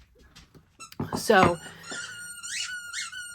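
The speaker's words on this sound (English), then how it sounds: "yes, that would be the dog's toy squeaking" A dog's squeaky toy gives a few quick high squeaks in a room, partly overlapping a woman's speech at the start and then continuing as separate chirps.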